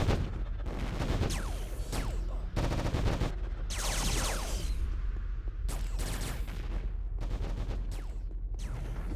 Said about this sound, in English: It's shooting and fighting, but I can't see where it's happening.